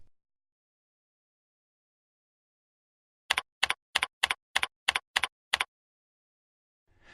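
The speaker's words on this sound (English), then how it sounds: "Enter a site name." Quick burst of about eight crisp keystrokes on a computer keyboard entering a site name in FTP software, evenly spaced in a tight rhythm and close-up against silence.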